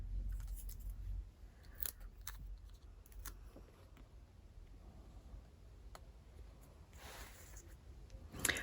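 Scissors snip through paper pieces in a quiet crafting room, several crisp, separate cuts spaced irregularly, close and fairly soft.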